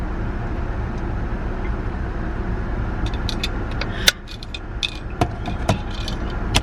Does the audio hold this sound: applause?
no